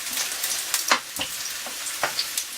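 Potatoes sizzle and spit in frying pans for a Scottish moussaka, a steady hiss broken by irregular crackles and pops, close up with no talking.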